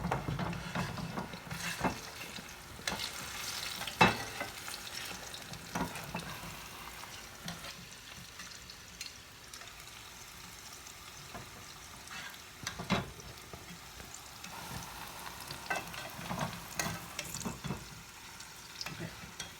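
Plantains fry in a pan with a steady, quiet sizzle, broken by occasional scraping and clacks as pieces are stirred and turned.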